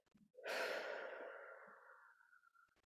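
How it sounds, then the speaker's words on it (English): One slow, deep breath, a long airy inhale swelling quickly and then easing into a fading exhale, close and quiet with near silence on either side. "taking a deep breath in and releasing with the out breath"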